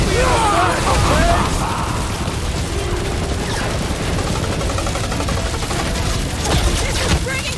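Dense, continuous gunfire and explosions in the Guardians of the Galaxy video game, loud and steady throughout, with character voices talking over the firefight.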